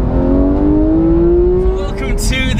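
A Porsche GT4 engine revs loud and close, its pitch climbing smoothly over about two seconds before a brief tire squeal and a few sharp bursts at the end, with a voice speaking over it.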